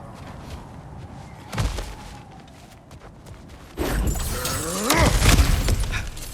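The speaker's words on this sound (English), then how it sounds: "Ah, back to smashing through things for fun and profit." Ground-smashing impact in God of War Ragnarök as a cracked floor is broken through: a sharp thud, then a loud rumbling crash with scattering debris, near and dense, set over steady game ambience.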